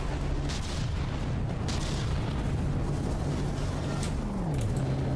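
Cannons firing in the naval combat game From the Depths, a dense, continuous barrage of overlapping booms and rumbling blasts at steady loudness.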